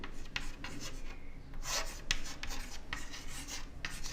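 Pen or marker writing out a math substitution during a class 7 algebra lecture, a quiet run of short scratchy strokes and taps in irregular bursts, close and alone without talk.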